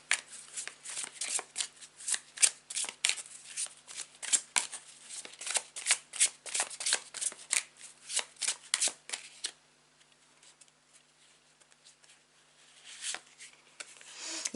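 Tarot cards are shuffled by hand in quick, repeated riffles and snaps, close and crisp, before falling quiet and then resuming faintly.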